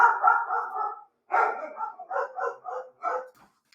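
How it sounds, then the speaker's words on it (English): Several household dogs bark in a burst, an opening run of rapid barks, a brief pause, then a choppy series of sharp yaps trailing off, close and fairly loud with no voices over them. "my dogs are barking"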